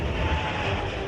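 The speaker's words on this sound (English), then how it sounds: "So now we're going to take off from the capital of Ethiopia, Addis Ababa, heading to Kenya." An airliner's jet engines roar in a steady, loud drone during a simulated takeoff from Addis Ababa, Ethiopia, heading for Kenya, with no voices over it.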